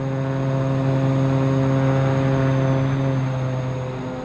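Steady drone of a simulated EV-55 twin-engine airplane in X-Plane, engines humming with strong tonal harmonics, constant and close throughout with no talk.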